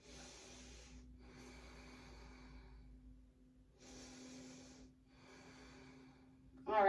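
Slow breaths held in a yoga pose during a vinyasa flow, four long airy inhales and exhales in steady rhythm, close and fairly soft over a faint hum.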